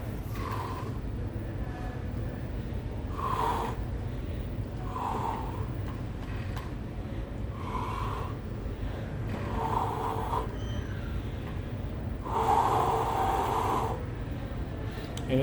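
A person forcefully breathes out again and again, about six audible exhalations spaced a couple of seconds apart over a steady low background hum, with the last one the loudest.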